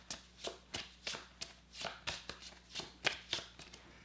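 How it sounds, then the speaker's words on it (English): A deck of game cards for the solo board game Mini Rogue being shuffled by hand: a run of quick riffling bursts repeating at a steady, brisk rhythm, close and fairly quiet, with no talking. "let's just take all of these cards and shuffle them up"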